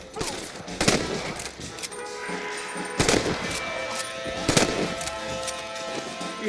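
Gunfire in the Red Dead Redemption video game: several sharp, loud shots crack at irregular intervals, with a few quicker bursts, over a background of game ambience and a faint voice.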